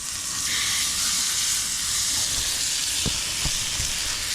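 Ribeye steak sizzles steadily in a pan outdoors after bacon has been cooked, a loud continuous hiss broken by a few soft clicks and taps near the end.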